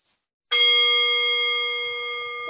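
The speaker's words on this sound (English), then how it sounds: "ending with the chimes." Chimes marking the end of a relaxation pose in a yoga class, one bright ringing strike that rings on and slowly fades, heard alone.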